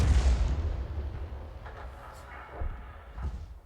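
A 105 leFH18B2 artillery gun fires in a video game, with a heavy booming blast at the start followed by two softer, deeper thumps that roll away into a low rumble.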